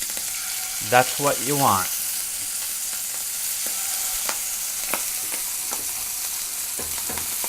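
Sea scallops sear in a hot pan with a steady broadband sizzle, while brief scraping knocks mark them being flipped; someone speaks briefly over the frying near the start.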